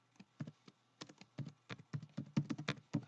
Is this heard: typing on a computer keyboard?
yes